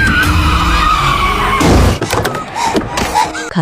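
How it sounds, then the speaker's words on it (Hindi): A car skids and crashes into a woman during a horror movie scene. A loud sustained tire screech gives way to a heavy impact and scattered clatter, set against a dense, music-filled background. "तभी एक कार उससे टकरा जाती है।"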